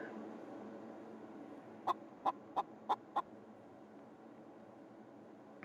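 A chicken in a VR roleplay video game clucks five times in a quick, evenly spaced burst over a steady, faint background hum.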